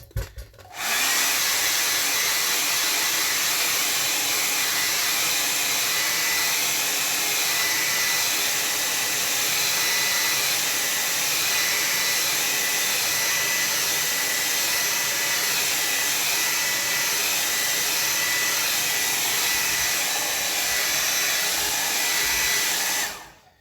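A hair dryer blows steadily on a watercolor landscape painted on tinted Bockingford paper, a loud continuous whir that runs unbroken for over twenty seconds.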